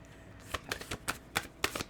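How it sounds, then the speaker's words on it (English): Tarot cards being shuffled by hand, a series of soft, papery slaps and riffles in a steady irregular rhythm, close and clear with no talking. "we're just going to shuffle"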